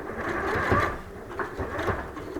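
A sewing machine runs a few stitches forward and then back at a fold of fabric and bias binding, making a close, steady mechanical whir that swells twice in quick bursts, with no talk.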